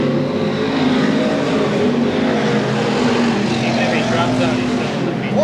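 Stock cars at a 1993 weekly race at Seekonk Speedway roar past in a steady, loud wall of engine noise, with a commentator's voice running over it.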